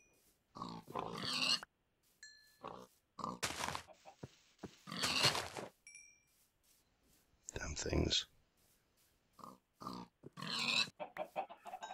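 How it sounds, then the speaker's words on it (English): Pigs grunt in repeated short bursts in Minecraft's Magic Farm 2 modpack, close and fairly loud, while someone speaks in between. "Oh, and another pig."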